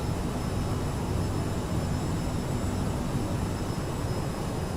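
An Aerosoft CRJ regional jet in Microsoft Flight Simulator hums with a steady, broadband jet engine roar and a faint high whine, unchanging and unaccompanied by talk throughout.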